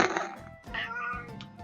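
A cat meows in the game Neko Nin ExHeart with a few drawn-out, close mewing calls, one after another, alone and fairly clear.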